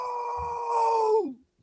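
A person's voice imitates a goat with one drawn-out, nasal bleating tone that holds steady, then drops and trails off, close and fairly loud.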